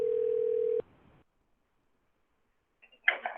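A cell phone on speaker plays a steady dial tone for under a second, cutting off abruptly; after a pause, faint voices or line noise come through near the end, in a school board meeting room.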